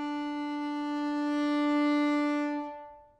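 A single sustained bowed fiddle note on the open D string, steady and fairly loud for about two and a half seconds, then fading out. No talking.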